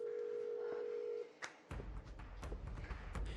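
A telephone handset is dialed, starting with a steady tone that cuts off, then a quick series of short taps and beeps at close range.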